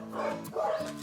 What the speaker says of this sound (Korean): 이곳은 개인이 운영하는 유기견 보호소로 많은 강아지들이 주인을 기다리고 있는데요